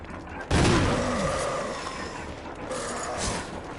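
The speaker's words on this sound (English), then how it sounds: "we're going to intercept him with some acid shell" A grenade launcher fires acid shells at a Crimson Head in the Resident Evil remake, one heavy close blast followed by a long rumbling decay with some mechanical clatter underneath.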